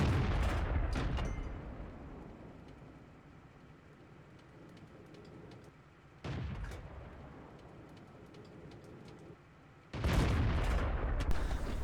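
Heavy tank cannon blasts in a World of Tanks match, a 105 mm derp gun firing with broad booming onsets at intervals, each decaying into rumbling battle noise and engine drone, no speech.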